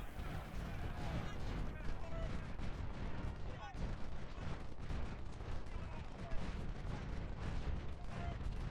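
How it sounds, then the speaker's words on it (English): A 3-inch artillery gun fires during a Civil War battle at Antietam in Ultimate General: Civil War, with booming shots amid steady rumbling battle noise, fairly faint and continuous under a busy soundscape. "There's a 3-inch gun on the other side of the Antietam firing"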